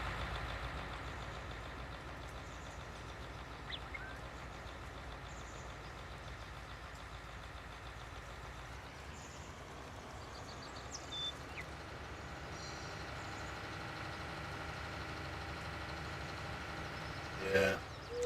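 A tractor or truck engine with an upgraded, beefed-up motor in Farming Simulator 19, droning steadily in the background at a low, even idle for the whole stretch, with a brief clatter near the end.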